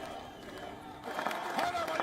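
Crowd of supporters cheering at party headquarters as a politician declares election victory, a continuous roar of voices swelling louder after the first second, with scattered shouts and whistles on top.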